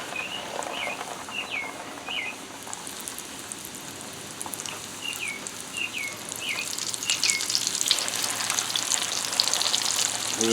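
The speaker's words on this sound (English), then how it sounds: "We're getting ready to put the tenderloins in the oil." Thick pork tenderloins sizzle in hot oil in a deep fryer, a soft, steady crackle and hiss that grows louder toward the end. Faint chirping sounds come and go above the frying.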